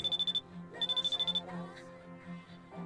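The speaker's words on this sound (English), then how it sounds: "phone is ringing" Phone in the handheld game Persona 3 Portable, ringing in two quick bursts of rapid high electronic beeps, with music and a murmuring voice underneath.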